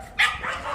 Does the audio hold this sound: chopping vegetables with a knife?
no